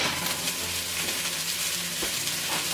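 Food sizzles and fries steadily in a hot pan as it softens, a continuous crackling hiss with no voices.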